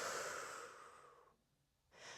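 A slow exhale during a Pilates exercise, soft and close, fading gradually into a brief pause before the next breath begins.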